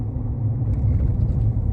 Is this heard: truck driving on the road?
yes